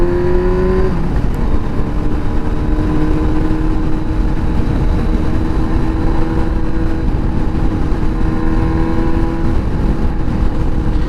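Ride on a Honda Hornet 919 motorcycle, with a loud, continuous engine drone and heavy wind rumble that hold steady throughout, and a brief rise in engine pitch near the start.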